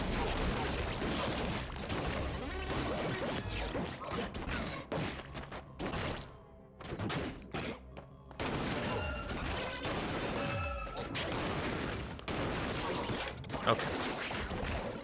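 Rapid video-game gunfire from ScourgeBringer rattles almost nonstop in dense bursts amid crashing impacts and busy game effects, pausing briefly midway before resuming loud and chaotic.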